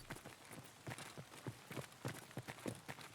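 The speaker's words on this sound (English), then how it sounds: "Footsteps in front of us" Nearby players' footsteps in Escape from Tarkov: a quiet, evenly spaced run of soft thuds, close by and continuing without pause.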